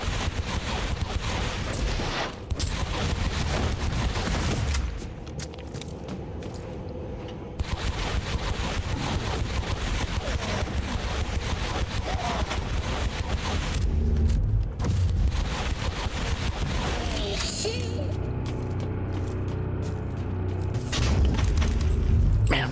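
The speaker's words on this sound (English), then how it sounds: "I'm dumping a good burst of needles into a target" Bursts of needle-gun fire in the Warhammer 40K: Inquisitor - Martyr video game, loud dense rapid volleys over a constant roar of booms and impacts, with brief pauses between bursts across the stretch.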